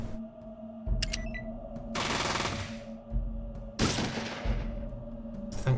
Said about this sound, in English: Thankfully they are still shooting each other as well